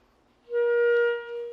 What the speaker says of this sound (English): this is a B-flat clarinet